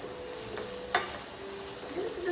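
Potatoes, chilies and spices frying in a pan for samosa filling, a quiet steady sizzle with a brief stirring scrape near the middle.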